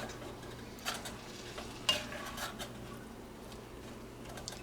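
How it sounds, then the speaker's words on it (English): Steaks frying in a pan, a faint, low sizzle with a few soft knocks and scrapes as they are turned, no voices. "So I'll keep flipping them until every bit of pink is gone"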